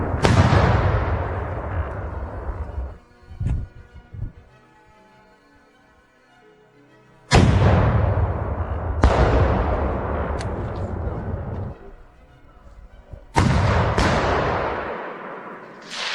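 Three heavy rocket launches fired at a building during a firefight, each a loud, close blast with a long rumbling decay, separated by quieter gaps holding sharp scattered gunshots.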